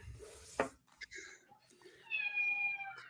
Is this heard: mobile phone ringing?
no